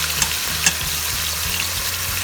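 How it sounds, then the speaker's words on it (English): A beef pot roast browns in a hot pan, giving a steady close sizzle and crackle of searing meat with a few brief spattering pops, and no voices. "Now I'm going to flip it and brown it the same way on the other side for 2 minutes."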